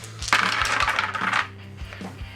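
Twelve dice rattle and clatter together in a board game dice box with a bright, close clattering burst. A few lighter taps follow as the dice settle.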